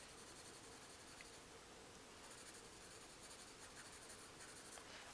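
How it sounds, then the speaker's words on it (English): Pencil lead colouring on paper in an ASMR drawing session, a steady soft scratchy scribble that runs throughout at close range with no voice. "I'm going to just lay some pencil"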